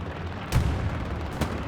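Distant gunfire and artillery rumble through a World War II shooter match at Carentan train station, with two sharp bursts standing out over a steady low battlefield drone.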